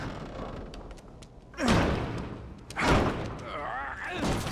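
A heavy door slams in the survival horror game The Evil Within, giving loud thuds and impacts over a noisy, reverberant game soundscape while a voice talks.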